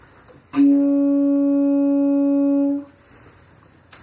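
A saxophone holds the first overtone of low B-flat, one steady, pure-toned note for about two seconds after a breathy attack, then stops, leaving near silence.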